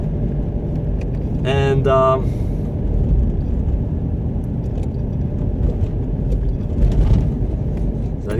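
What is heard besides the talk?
car driving on a road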